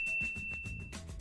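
A notification bell dings in a short, bright tone sustained across about a second, sitting over a busy low backing bed without any talk.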